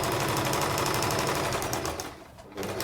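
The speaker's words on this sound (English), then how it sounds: "First of all, get your needle down, then start sewing slowly, making sure your stitch is at the tightest" A sewing machine runs steadily and loudly, stitching a welt pocket at a slow, tight setting with a rapid mechanical patter that briefly eases before resuming.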